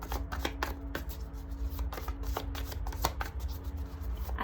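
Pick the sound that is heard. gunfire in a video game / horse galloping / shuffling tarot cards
shuffling tarot cards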